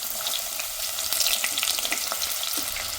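Thinly sliced onion fries in hot oil with bay leaves, giving a loud, continuous crackling sizzle close to the pan, with no voices.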